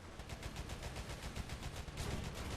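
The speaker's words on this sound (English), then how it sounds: "Those machine guns sound pretty awesome." Rapid, continuous machine-gun fire from a tank in the video game War Thunder, a dense rattling burst of closely spaced shots that stays loud throughout with no talking.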